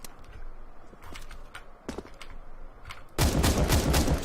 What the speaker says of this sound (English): So this is the new Scar 20. Once again, also very bassy, very deep sound.